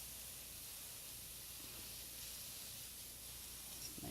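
Scallops sear in a hot pan right after being flipped, a steady, even sizzle and hiss holding at a constant low level throughout with no talking over it.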